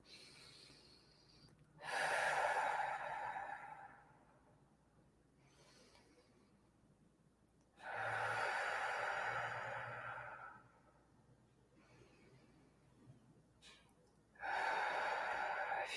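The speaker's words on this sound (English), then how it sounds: "Let's take those 3 deep breaths in through the nose," Three slow, deep breaths, each a long airy rush lasting a couple of seconds, drawn in through the nose and released through the mouth, separated by quiet pauses in a calm guided meditation.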